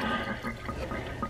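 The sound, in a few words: draining water from thawed frozen shrimp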